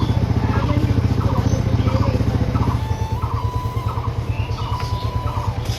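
A motorcycle engine starts and runs at a steady, rhythmic idle close by in a village, a loud continuous chug lasting several seconds with no talk over it.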